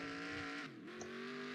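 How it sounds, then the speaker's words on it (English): A Trans-Am race car drifting into a chicane at Daytona Road Course in NR2003, with an engine whine that dips and climbs again alongside a thin squeal of tires, all fairly quiet. "We'll try one more drift going into the chicane here"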